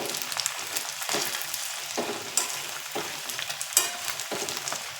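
Meat sizzles and crackles steadily in a hot pan as it is turned over for a beef dry fry, with scraping clicks at the flip and no talk over the close, continuous frying.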